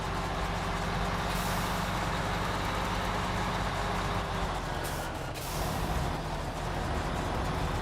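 A truck engine roars steadily and loudly while the vehicle drives over an ice patch, with a broad rumbling drone and a brief dip midway, no talking.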